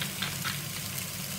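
Turkey strips frying in a little hot oil in a pan, a steady soft sizzle that holds at an even level for a moment, close by and on its own with no voices.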